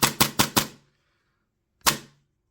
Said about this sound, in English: to make sure it works, we can do a dry fire test.